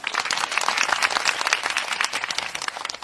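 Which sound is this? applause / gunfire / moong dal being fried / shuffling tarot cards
applause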